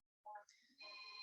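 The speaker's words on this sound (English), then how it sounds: "Sorry about my phone." A mobile phone rings during an online meeting: a short, faint electronic ringtone of a few bright tones and then a sustained chime.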